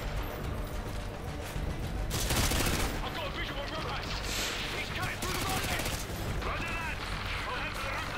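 Loud, dense gunfire in a Call of Duty MW2 battle, with sniper shots amid rapid volleys and mechanical clatter that continue throughout.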